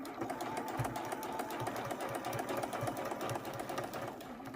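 A sewing machine stitches quilt binding with a continuous close mechanical whir and rapid needle pulsing that stays even throughout.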